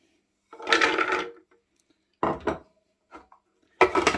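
Walnuts tipped into a food mixer bowl for a coffee and walnut cake, giving three separate bursts of rattling, clattering pieces against the bowl with quiet gaps between them and no talking.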